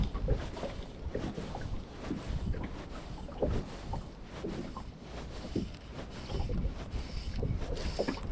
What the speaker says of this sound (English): This wind is making it really awkward today though